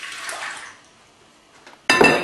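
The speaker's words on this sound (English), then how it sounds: "We're going to pour in our water." Water poured into a bread maker pan, a soft hiss and splash at first, a short pause, then a louder close burst of splashing liquid at the end.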